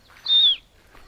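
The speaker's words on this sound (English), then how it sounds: "You can hear Jackie. She's tweeting over there." Jackie, a pet parrot, gives a single bright, whistled tweet lasting about a third of a second, clear and moderately loud against a quiet room, with faint background sounds afterward.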